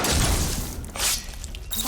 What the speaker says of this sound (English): Vines. They're falling apart.